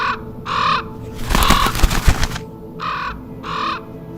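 A raven caws four times, loud and close: two harsh calls, a noisy burst of fluttering in between, then two more calls, each about half a second long.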